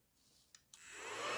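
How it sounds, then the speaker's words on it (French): A small desk vacuum cleaner starts up after a couple of faint clicks, its whirring motor rising quickly into a steady, growing hiss that fills the quiet room. "Mon petit aspirateur de bureau"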